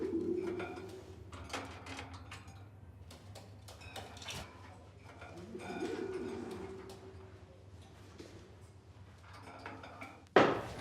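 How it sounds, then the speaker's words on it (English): A pigeon coos somewhere behind the listener, soft throaty calls rising and fading among faint background clatter and room noise, with a sharp knock near the end and no talking. "did you see this pigeon behind us?"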